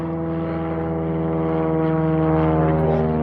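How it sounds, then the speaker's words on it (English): A propeller airplane drones overhead, a steady, loud, low engine hum that swells slightly as it passes, heard outdoors with no one speaking. "plane flying over"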